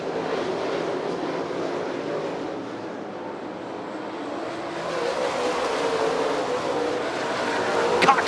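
Late model race cars roar wheel to wheel down the backstretch of a dirt track, a dense, sustained engine drone from several cars that swells louder toward the end.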